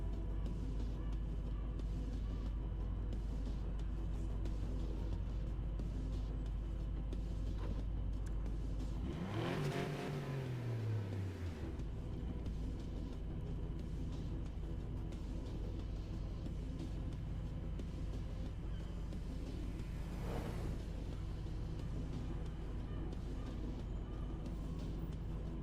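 A Porsche engine in a racing video game idles with a steady low rumble, then revs up sharply with a rising pitch sweep and shifts, settling back, followed later by a brief whoosh.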